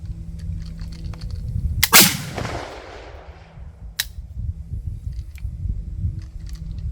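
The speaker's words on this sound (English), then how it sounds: "I think there's a little bit of a hang fire with that last round, and now you just have a click and no bang" A Johnson rifle fires one loud, sharp shot at a range, its echo ringing out for about a second, followed by a brief crisp click a couple of seconds later amid steady outdoor background noise.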